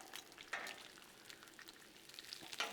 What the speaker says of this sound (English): Well, this bacon's cooking up rather well.